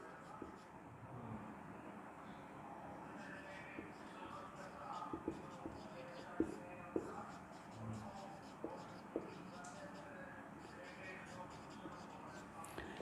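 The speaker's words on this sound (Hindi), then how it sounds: "इधर लिख देते हैं।" Chalk or marker writing on a board during a biology lecture, faint scratchy strokes in irregular bursts under a room hum, with a voice speaking quietly at times.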